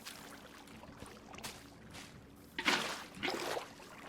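Water placed in Minecraft gives two short, soft splashing whooshes close together near the end, faint over a quiet background.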